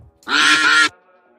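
A goose-like honk or quack bursts out once, loud and nasal, lasting about half a second before fading to near silence.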